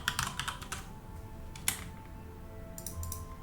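Quick bursts of clicking keys on a computer keyboard while modding Hearts of Iron IV, close and fairly quiet, arriving in short clusters with gaps between them and no talking.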